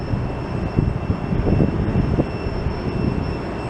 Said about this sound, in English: Southwest begins its takeoff to Kansas City